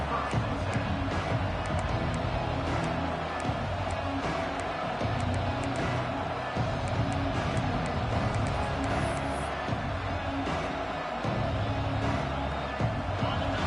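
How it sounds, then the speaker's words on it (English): Stadium crowd at a college football game between the Aggies and UNT, a loud, continuous roar of voices filling the whole stretch without a break. "This crowd bringing an ear-splitting welcome to their visitors."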